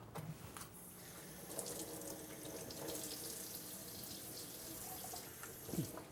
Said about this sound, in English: I'm going to take this pepper, and I'm going to rinse those off.